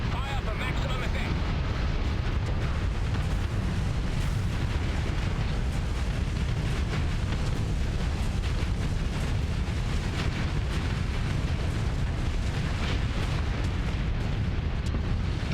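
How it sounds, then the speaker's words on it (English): Repeated ship explosions in the Starsector space combat game, heavily modded with Star Wars content, form a dense, continuous roar of booms and bursts lasting the whole stretch with no quiet gaps. "They're blowing up quite efficiently"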